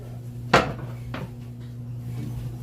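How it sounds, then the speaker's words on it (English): A wooden cutting board clatters as it is pulled out in a home kitchen: one sharp knock followed by a softer second bump, close by against a steady background hum. "Now, I'm going to grab a cutting board."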